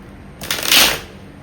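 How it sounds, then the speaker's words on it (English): Tarot cards are shuffled by hand in one brief, close riffling burst that swells and fades within about half a second, with no talking. "I know I've been shuffling these cards for a while"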